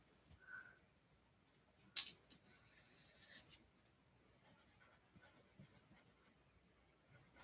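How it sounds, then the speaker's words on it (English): Pen writing down test marks on paper, faint and close, with scratchy strokes and short rubbing bursts coming in scattered clusters, no talking. "I'm gonna actually write down test mark"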